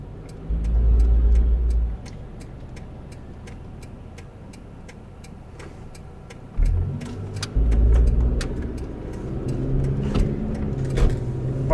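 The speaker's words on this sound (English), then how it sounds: "Minivan coming in too hot behind me." A minivan closing in close behind on an icy road, its engine rising loud in surges, with a rapid ticking running steadily throughout.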